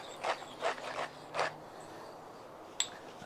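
Peppercorns for a brisket rub are ground in a few short rasping bursts spaced about a third of a second apart, then a pause and a single sharp click; close and moderately loud with no speech.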